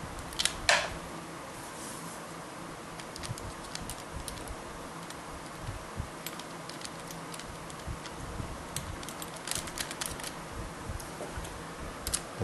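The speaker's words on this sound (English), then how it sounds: "Then go ahead and remount the retention nuts on the mounting studs." Small metal retention nuts being fitted back onto the carburetor mounting studs of a Jiffy PRO4 Gen 1 ice auger, heard as scattered light ticks and clicks, close and fairly quiet, with a few sharper taps over a steady low background.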